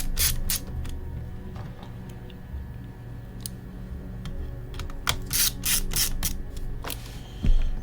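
An M2 by 4 screw being driven into an HP 17t-cn000 laptop palmrest with a small screwdriver, giving close, quiet ratcheting clicks and ticks in uneven bursts, with a louder clatter at the end.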